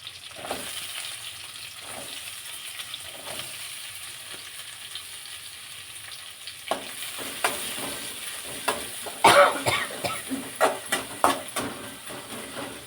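Butter melting and sizzling in a pan for butter egg masala: a steady soft frying hiss throughout, joined in the second half by louder crackles and pops with some stirring clatter.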